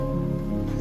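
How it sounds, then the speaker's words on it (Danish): Light rain falls steadily outdoors in a lush, green place where people are walking, a soft continuous patter with a low hum underneath and no voices. "det regner en lille smule"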